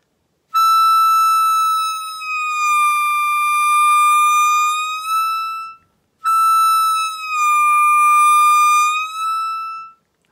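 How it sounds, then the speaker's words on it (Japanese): A blues harmonica plays a hole 8 blow bend on the note E twice: a clear, loud, sustained reedy tone that slides smoothly down in pitch, with a short pause between the two notes and no talking. "8番のね、ミですね、吹いてベンドするところですね。"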